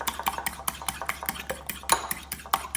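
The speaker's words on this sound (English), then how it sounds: "I'm going to go ahead and beat this up a little bit more" Egg mixture is beaten in a bowl for an egg drop chicken noodle soup, a quick, even run of clicking utensil strokes against the bowl, close and continuous.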